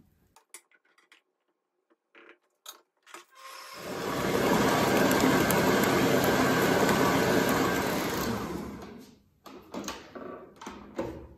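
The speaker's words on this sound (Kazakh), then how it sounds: "сол қол миксермен айналдыра бересіздер" Electric hand mixer whipping cake cream in a bowl, a steady loud whirring drone lasting several seconds, framed by light clinks and taps of the bowl before and after, close up.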